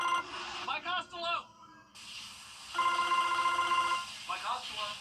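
Telephone ringing in a TV advert for the Mike Costello Law Firm, trilling electronic rings in bursts that alternate with a sustained ring tone, with a voice between them.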